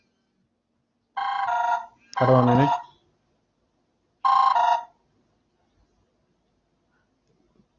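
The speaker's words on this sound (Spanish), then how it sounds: "me estaba sonando el celular, perdón" A mobile phone ringtone sounding during a spoken interview: three short, bright melodic bursts separated by gaps, with near silence afterward, and a voice briefly speaking near the start.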